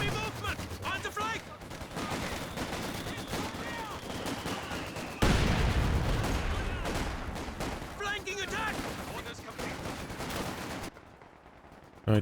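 MG34 machine gun fire in the video game Company of Heroes 2, dense sustained bursts of automatic fire mixed with distant battle noise, booms and game effects, continuous and loud through most of the stretch.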